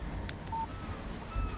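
A phone text message alert from the video game Alan Wake: a short, clear electronic tone sounding once over a low, steady background hum, with no voices.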